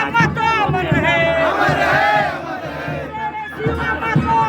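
A large outdoor crowd at a Jharkhand memorial rally chants slogans together, loud and close, with rising and falling shouted voices carried over a constant din of the gathering.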